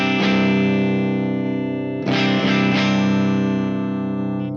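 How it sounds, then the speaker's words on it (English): An electric guitar runs through the clean channel of Genome amp software with the noise gate off. Sustained chords ring loud and bright, with a fresh strum partway through that is struck again a few times, and no voices. "Let's check out a clean channel. It's on a green mini off. So clean channel, basically you've got a bright switch."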